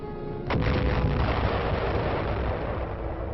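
A deep, sustained blast roar from an atomic bomb explosion, starting with a sharp onset and rumbling on loudly and continuously with heavy low-end noise.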